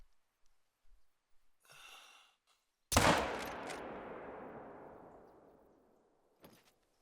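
A hunting rifle fires once in theHunter: Call of the Wild, a single loud, sharp crack with a long rolling echo that fades over several seconds, after brief soft rustling and footsteps, with a faint click near the end.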